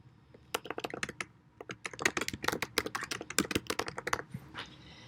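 Someone typing a module name on a computer keyboard, a quick run of close, crisp key clicks in irregular bursts with a brief pause partway through.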